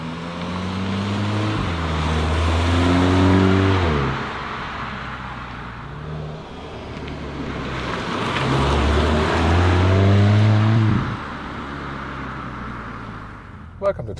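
Volkswagen Golf 8 GTI accelerating hard in sports mode, engine note climbing through gears with rising and falling sweeps, heard from inside the cabin while someone talks over it.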